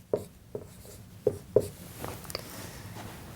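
A pen writes out a calculus expression on paper in a few sharp taps and short scratching strokes, close and quiet, with no talking.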